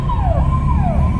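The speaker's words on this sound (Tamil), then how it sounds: "பின்னாடி இன்னொரு ஆம்புலன்ஸ் வருதுங்க" Ambulance siren wailing in city traffic in Coimbatore: a loud, close electronic wail that sweeps down and up repeatedly over the rumble of engines.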